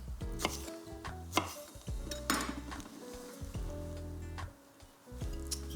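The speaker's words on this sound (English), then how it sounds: "Just roughly chop." A knife roughly chops a garlic clove on a board, giving a run of sharp, uneven close-up knocks. A low continuous hum and faint kitchen clatter sit underneath, and no one speaks.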